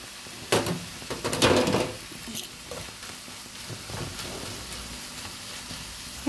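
Ground meat hits a hot pan for spaghetti sauce, giving a few sharp clattering impacts followed by a steady soft sizzle and stirring scrapes, close and fairly loud with no talking.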